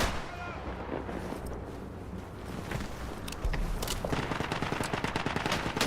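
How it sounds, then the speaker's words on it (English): Gunfire in the World War I game Isonzo, a busy battlefield of distant shots and rattling fire that grows louder and denser toward the end, with single rifle cracks among it. "Single shot rifles are kind of rough"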